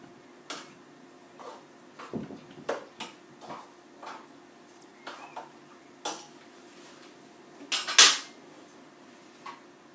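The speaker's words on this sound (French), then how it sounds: "dans la théière avec la menthe et le sucre. Et vous n'avez plus qu'à remuer." A spoon stirs mint tea with sugar inside a teapot, making scattered light metallic clinks and taps at an irregular pace, followed by a brighter rattle near the end, all fairly quiet.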